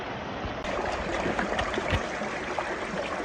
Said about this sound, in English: this is the Santiam River, North Fork, Waterloo Park